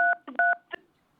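A telephone keypad dials a few quick touch-tones, two clean beeps and a couple of shorter blips, close and clear, then silence.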